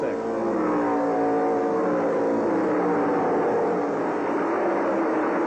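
A 1997 IndyCar Racing League race car at New Hampshire's Loudon oval runs its engine with a heavy, labored note as the driver lifts off the throttle into a corner. The drone is loud and sustained, with faint speech underneath.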